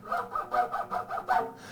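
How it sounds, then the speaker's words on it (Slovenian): Hand saw rasping back and forth as a live sound effect for puppet theatre, about eight quick rhythmic strokes, close and fairly loud, with no voices over it. "oblikovanja različnih sinhronih zvokov, kot je na primer žaganje"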